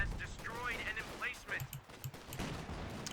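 Company of Heroes 2 battle sounds, Ardennes Assault campaign: scattered gunshots and dull explosion thuds crackle through a dense, busy mix of game noise, with a voice talking over it at times.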